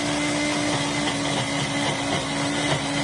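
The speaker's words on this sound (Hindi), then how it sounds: "हम इसे बहुत अच्छे से पीस लेंगे" Electric grinder whirring steadily at high speed as soaked lentils are ground into a smooth paste, a close, loud, unbroken motor drone.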